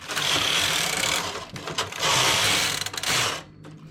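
Domestic knitting machine carriage sliding across the needle bed knitting a tuck stitch row, a loud continuous mechanical rasp and clatter for several seconds that dips briefly midway and stops abruptly at the end of the pass.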